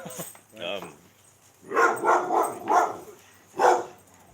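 A dog barks in several short, close yaps, some grouped in a quick run of three or four, with a voice speaking briefly between them.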